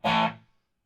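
A short, gritty burst of overdriven electric guitar played through a Joemeek gbQ preamp into a stock Fender Bandmaster amp. A single chord hits hard, then decays quickly into silence within about half a second.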